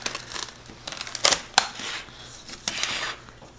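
Metal clicks, snaps and clatter come from a springform cake pan being opened and released in a kitchen. Several sharp metallic ticks stand out against faint background noise.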